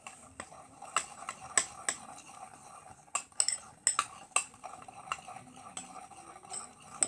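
Bath bomb mixture being stirred in a bowl with a utensil, giving a run of light scraping clicks and sharp taps against the side at an uneven pace, close by and moderately loud, with no talk.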